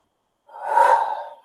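A single audible inhalation during a Pilates exercise, a breathy intake of air rising and fading over about a second, close and alone.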